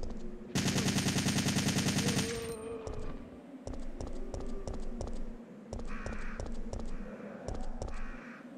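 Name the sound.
assault rifle gunfire in video game Resident Evil 3: Nemesis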